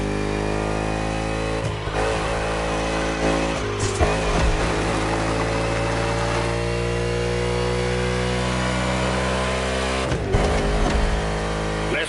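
A NASCAR race car engine in The Crew video game roars loudly and steadily, its pitch rising and falling through gear changes, with a few brief dips between.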